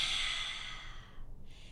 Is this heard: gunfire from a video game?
no